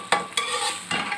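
Okra (bhindi) frying in a pan, with constant close sizzling broken by three sharp scraping strokes of a stirring utensil.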